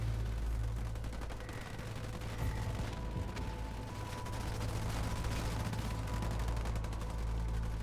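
Sustained rapid automatic fire from a chain gun in Halo Wars 2, with a dense crackle of shots and occasional booms in a busy battle mix, fairly faint throughout.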